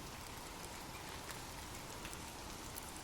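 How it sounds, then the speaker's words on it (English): Gentle rain falls on leaves, a soft, steady patter of drops spread evenly through the quiet, with no other sounds. "Imagine gentle raindrops falling softly on leaves"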